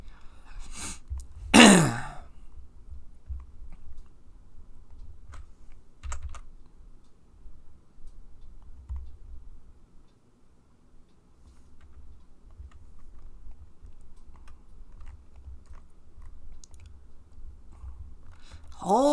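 A computer keyboard with a sticky control key being typed on in a quiet room, a few sparse, soft key clicks scattered across a mostly still background.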